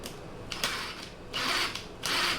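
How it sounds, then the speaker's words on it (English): A handheld power drill whirs in three short bursts with brief pauses between them, close and fairly loud, with no talking. "Can I get the drill in there?"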